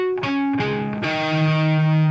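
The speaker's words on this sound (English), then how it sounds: "The only note we should hear is that 12th fret note on the bottom string." A distorted electric guitar is strummed across all six strings with the strings muted, so only a single ringing note at the 12th fret of the bottom string comes through. A few strums change pitch before that note sustains, loud and close.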